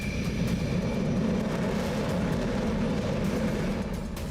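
A Rafale fighter jet produces a steady, dense roar that holds loud and unchanging throughout.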